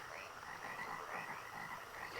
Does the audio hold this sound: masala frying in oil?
no